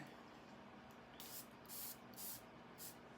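A perfume atomizer sprays Escapade Gourmand fragrance in four quick close-up hissing bursts, spaced roughly half a second apart, over a quiet room with no talking.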